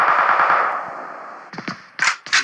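Gunfire in PUBG on the Sanhok map, with a long sustained burst of automatic fire that fades away, followed by several sharp separate shots, loud and close with no voices.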